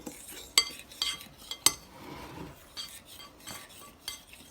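A fork stirs milk into chocolate pie filling in a bowl, giving soft scraping swishes broken by a few sharp clinks against the dish, close and fairly quiet with no talking.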